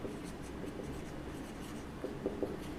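A pen writes on paper in continuous close scratching strokes, with a few firmer taps near the end, and no one talks.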